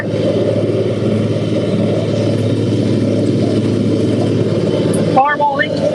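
A Farmall 826 tractor pulls a John Deere 348 hay baler on a Wisconsin evening, its engine a loud, steady, continuous drone throughout. A voice comes in briefly over the engine near the end.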